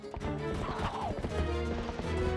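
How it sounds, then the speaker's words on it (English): Rhythmic clip-clop of a galloping horse with a rising, wavering neigh over busy game sound in Zelda: Twilight Princess, loud and continuous for a couple of seconds. "Horse is out of control."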